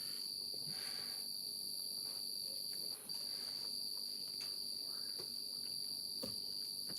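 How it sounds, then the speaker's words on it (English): A cricket chirping outdoors in Mississippi, a continuous high steady trill with regular pulsing, fairly faint against a quiet background, nobody talking. "Kill that cricket, he ain't even paused."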